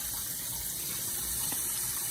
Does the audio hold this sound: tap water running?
yes